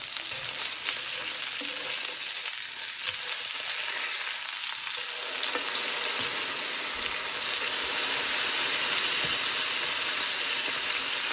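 Thick pork chops, halved, sizzle loudly and steadily in a frying pan after being flipped, a dense crackling hiss that builds slightly over time, with no talking.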